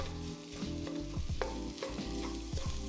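Scrambled eggs being stirred and folded into a pan of shrimp fried rice, with repeated close scraping strokes of a utensil over a steady sizzle and no talk.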